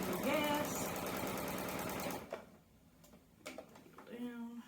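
A sewing machine stitches steadily at speed while quilting a door banner, a loud rapid mechanical whir that cuts off abruptly partway through, followed by quiet handling clicks and a short hum.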